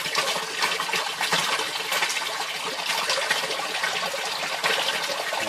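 An aquaponics siphon draining water in a steady, fairly loud rushing gush, like a flush, that continues without a break for several seconds and is heard alone.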